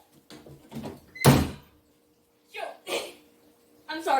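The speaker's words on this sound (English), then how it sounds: "I slammed that door hard." A door slams shut hard with a single sharp bang in an Animal Crossing cafe, set between bursts of a person talking.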